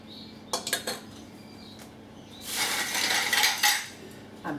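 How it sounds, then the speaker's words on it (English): Quince jelly being ladled into glass jars, with clinks of the metal ladle against jar rims and a brief louder clatter of utensils and glass near the end, close and moderately loud. "I'm going to ladle and fill them right to the top."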